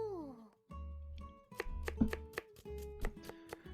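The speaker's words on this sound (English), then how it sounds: "Akizuki-san begins by finely chopping up one onion, handling her knife with a surprising amount of skill" A video game kitchen scene where a knife finely chops an onion, crisp repeated taps on a cutting board in an irregular run after a few soft tones, close and clear with no voices.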